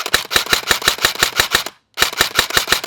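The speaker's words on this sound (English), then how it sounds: "the blaster is quite snappy to fire" An SLR Ion Lite CQB gel ball blaster fires in rapid, evenly spaced sharp snaps, about eight shots in a burst, a brief pause, then another quick string of shots, close and loud with no talking.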